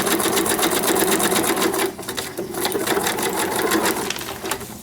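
A sewing machine runs a small zigzag stitch, a rapid mechanical needle chatter that pauses briefly and then starts again, close and loud.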